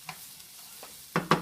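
A wooden spoon stirring in a sizzling pan of oxtail and collard greens: a few soft scrapes, then two louder close knocks and scrapes near the end over a faint background sizzle.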